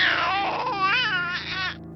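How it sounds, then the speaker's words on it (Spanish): A child cries as a horror-story sound effect, with a sustained, wavering wail rising and falling, close and clear, that cuts off abruptly near the end. "escuchó el llanto de un niño al lado de donde estaba parada."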